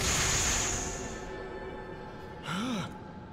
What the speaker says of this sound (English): Gasp.